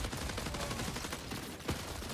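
Dense, continuous rapid gunfire in the shooter game Gray Zone Warfare, overlapping bursts and shots forming a loud, unbroken fusillade with a sharper crack near the end.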